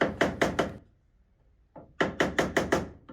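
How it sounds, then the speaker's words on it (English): A hammer taps a flathead screwdriver wedged under a decal on a wooden dresser, giving a burst of four quick, sharp knocks, a pause, then a single tap followed by five more evenly spaced knocks, close and clear with no talking. "So I do grab a flathead screwdriver and a hammer and just gently tap"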